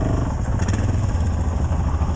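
A 500 motorcycle engine with a suspected position sensor fault that keeps flaming out at stop signs runs close and loud, a continuous rough rumble with some clatter and no talking.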